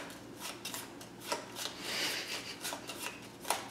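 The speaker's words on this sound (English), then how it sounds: "I just shuffled all these cards" A deck of playing cards being shuffled at a board game table, a run of quick papery riffles and rasping slides, close and soft, with no voices over it.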